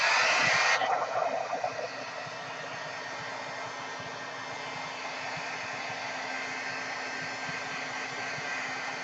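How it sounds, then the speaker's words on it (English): A blow dryer roars steadily as it dries watercolor paper sprayed with Dylusions sprays, with a louder burst at the very start before settling into a constant close whoosh. "I'm going to blow it dry a little bit."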